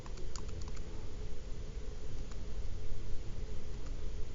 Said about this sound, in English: I'm going to keep hitting enter till I see negative 14.